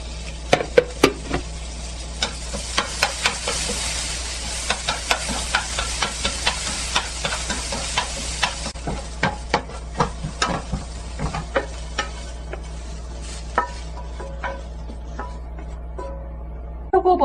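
Carrots stir-fry in preheated oil for japchae over medium heat, giving a loud, steady sizzle with frequent sharp clicks and scrapes as they are stirred, close up and continuous.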